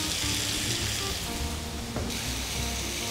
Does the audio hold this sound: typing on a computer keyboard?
no